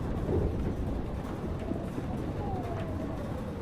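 Steady storm roar with rumbling thunder and heavy rain fills the scene in the Life is Strange video game, a continuous dense wash with no distinct claps and faint tonal traces underneath.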